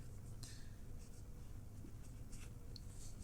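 A pen or chalk scratches faintly as someone writes numbers by hand during a class 6 maths lesson: soft, intermittent strokes against a quiet room hum.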